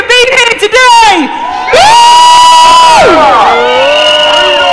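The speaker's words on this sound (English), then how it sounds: "So give yourselves a big cheer for being here today!" A crowd at an outdoor gathering in London bursts into loud, close cheering with whoops and rising shouted voices, swelling and sustained for several seconds.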